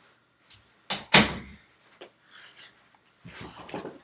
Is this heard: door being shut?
yes